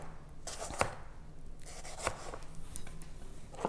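A knife slicing the last of a batch of cucumbers for a vinegar cucumber salad, giving a few sharp cuts against a board amid steady soft scraping and rustling, close and fairly quiet.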